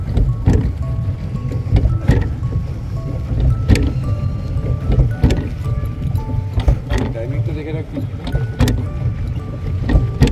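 A small tourist boat with four passengers moves across Ward's Lake, its steady low motor drone and wind rumble continuous throughout, with intermittent knocks and splashes, while people talk over it.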